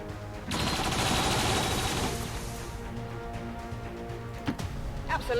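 In XCOM 2, a burst of gunfire loud at first, then thinning into scattered shots and impacts over a low background hum.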